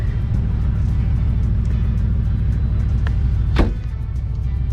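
A car engine runs and pulls away on a short drive with the fuel tank nearly empty: a loud, steady low rumble fills the whole stretch, with a brief sharp click or knock near the end and no talking.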